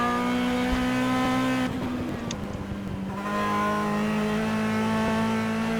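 Endurance race cars lapping the circuit during the 2014 WEC 6 Hours of Magny-Cours, a steady loud engine drone that drops into a rushing, gritty passage midway, then the engine tone swells back.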